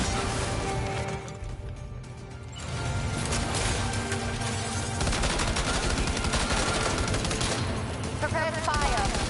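Gunfire in the video game Death Stranding 2: dense, loud bursts of rapid shots and rattling impacts, briefly easing before resuming continuously, with a voice heard in the mix.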